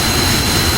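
An F-15E jet engine in the DCS World flight simulator, heard at a community air show, gives a loud, continuous, roaring whine with a steady high tone, with no breaks.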